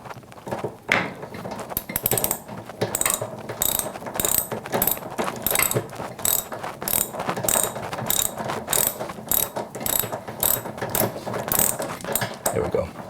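A rapid, steady ratcheting clicks on as a part is tightened during a Speed Queen washer repair for a rattling noise during agitation, close and continuous with slight variations in pace.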